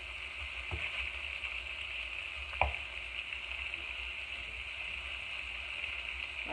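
Salmon fillets and shrimp frying in a pan give a steady, close hiss of sizzling oil that holds level throughout, broken by a couple of brief clicks of a utensil against the pan.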